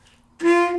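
A tenor saxophone sounds a single sustained G note after a short quiet lead-in, loud and close, with no talking.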